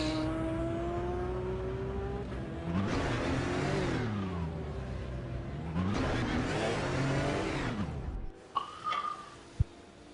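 Race car engine on the Nordschleife in a racing video game, with a steady mid-pitched drone that swells into two long revving sweeps, then drops away, followed by a few short sharp blips.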